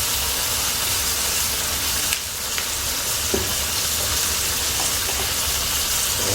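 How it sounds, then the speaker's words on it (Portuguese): Black pepper sautéing in an oiled pan, a steady close sizzle and crackle of frying with a brief softer dip midway, continuous throughout with no voices. "Pode ir salteando."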